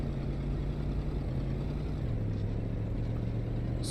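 A video game car engine drones steadily at low revs, a continuous hum with a slight pitch shift midway, fairly quiet and with no talk over it.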